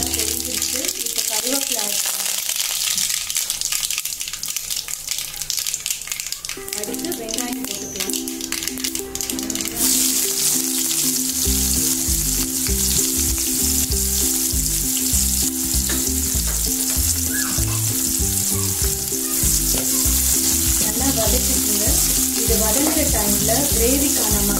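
Steady loud sizzling of mustard seeds in hot groundnut oil, crackling throughout, with bursts of rhythmic stirring and popping toward the end.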